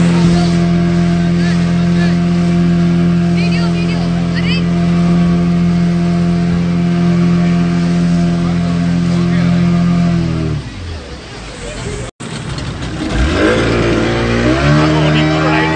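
Motorboat engine droning loudly and steadily during a short pleasure ride near Baga Beach in Goa, then dropping off as the boat slows and the engine note changes.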